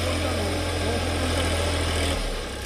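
A tractor engine runs steadily in a farm field on Rakesh Tikait's land, a close, loud idling rumble with a constant low hum that drops slightly in pitch near the end.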